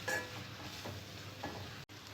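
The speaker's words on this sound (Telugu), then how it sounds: "పకోడీ వేసుకున్న తర్వాత 2 మినిట్స్ పాటు ఆయిల్లో బాగా మగ్గనివ్వాలి." Ivy gourd pakoda pieces frying in hot oil, giving a steady low sizzle and bubbling with a few faint stirring scrapes, no voices.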